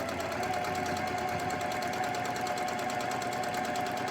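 A sewing machine runs at a steady, controlled speed during free motion quilting of a tumbling block pattern, a continuous rapid needle chatter and motor hum with no talking.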